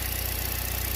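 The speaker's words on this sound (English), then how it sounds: "the engine runs rough and it doesn't have a lot of power" A 2014 Chevy Cruze engine, fault traced to the PCV system, idles rough up close with a steady low pulsing rumble and a slight uneven knock throughout.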